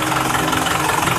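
A car engine idles steadily at close range, a loud even rumble with a faint knocking pulse and no other sounds over it.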